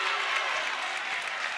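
A high school boys basketball crowd in a gym applauding steadily, a dense wash of clapping that holds even throughout.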